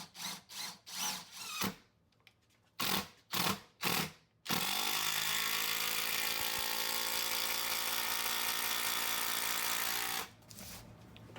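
A Festool TID 18 or Skil PWRCore 12V impact driver drives a 4-inch Torx 25 screw into wood: a few short bursts, then a sustained loud rapid hammering rattle for about six seconds, ending in quick bursts.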